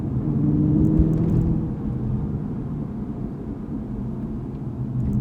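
A 2015 Aston Martin V8 Vantage in traffic, its engine and exhaust giving a low, steady rumble that swells briefly near the start, then settles into a quieter even drone, with no talk.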